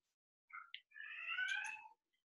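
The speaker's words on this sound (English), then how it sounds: "I don't know if you can hear my cat." A pet cat, upset at being shut out of a room, gives a short chirp and then a long, drawn-out meow that sounds faint and muffled, as if from behind a door, with no talking.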